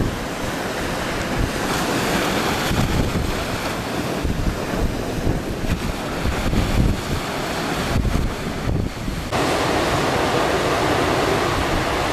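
Ocean waves surge and break on the shore in a continuous loud rush, heavily mixed with wind buffeting the microphone, at a surf spot on a day with clean waves.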